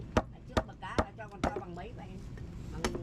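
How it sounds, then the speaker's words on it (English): A knife chops the head off a catfish being cleaned for steaming, with several sharp, separate thwacks spaced about half a second apart, close and loud, while someone talks between and over the cuts. "Now we're gonna chop the head off."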